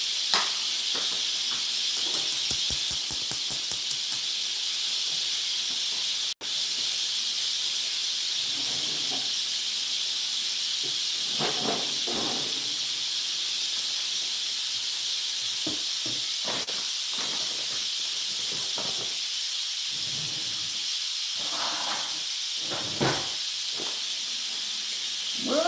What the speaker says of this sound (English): Let's release the steam.